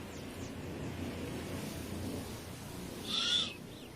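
A great horned owl gives a short hoot around the middle of the clip, moderately loud over a steady wind-like outdoor hiss, with no other voices.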